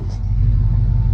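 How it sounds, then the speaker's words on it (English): A 1995 Ford F-150 truck with a 5.8L engine idles steadily after an ECM replacement, giving a close, continuous low rumble that holds an even level throughout. "So the ECM fixed this truck and it runs awesome"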